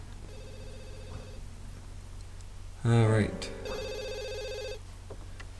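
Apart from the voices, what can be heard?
telephone ringing in a video game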